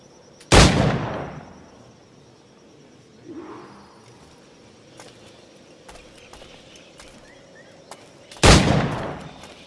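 Firearm shots at targets in the Assassin's Creed 4: Black Flag video game: two loud, sharp bangs about eight seconds apart, with a faint muffled thud and quiet game ambience between them.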